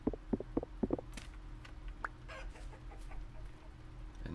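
Chickens in the video game Vintage Story give a quick run of bright clucks, then quieter scattered clucks and faint game sounds over a steady low background hum.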